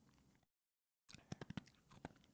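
After a short dead silence, a dog crunches a treat up close in a quick burst of several sharp, crisp bites, followed by a softer chew a moment later.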